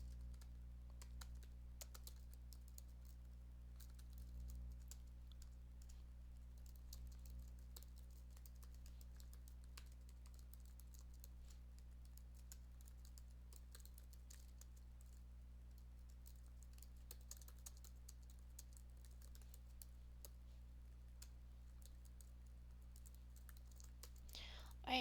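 Light, fast keystrokes on a computer keyboard as Python code is typed out, a soft, steady patter over a constant low hum for the whole stretch, with no one speaking.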